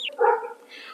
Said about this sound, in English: some dog barking now